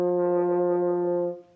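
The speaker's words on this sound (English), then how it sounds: "the first pitch we're going to play is your middle C, or just the C with the line through it" A single open middle C sustained on a French horn, steady and full for over a second before tapering off, played alone in a quiet room.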